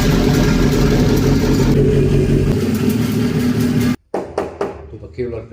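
A car with a 2.0 turbo engine runs loud and close with a deep, steady roar that shifts pitch midway, then cuts out abruptly, followed by people talking nearby.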